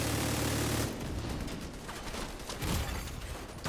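Weapon fire in the video game Descent, a burst of loud shots at the start giving way to a rumbling run of quicker, softer blasts over steady engine-like hum, no talk.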